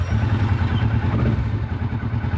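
A Kawasaki Vulcan motorcycle engine idles and lopes along in a narrow stone alleyway, a loud, close, throbbing low rumble with a steady pulsing beat echoing off the walls.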